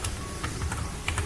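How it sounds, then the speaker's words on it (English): Fingers tap out text on a computer keyboard, a quick run of light, close clicks in an uneven rhythm over a low background hum. "let's say I'm typing a text over here"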